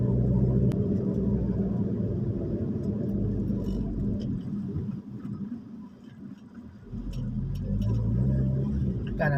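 A car driving along a road, its steady low engine rumble and tire noise filling the space, dipping briefly midway before swelling again; no clear speech over it.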